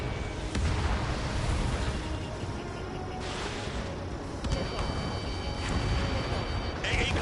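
An anti-aircraft gun is blown up in the Ace Combat 7 combat flight game, a dense rumbling blast wash over continuous jet and battle noise, with sharper pops and bursts breaking through at intervals.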